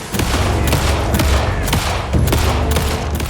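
Video game gunfire in Alan Wake 2: a rapid run of loud, sharp shots fired at uneven intervals over a dense, rumbling game background.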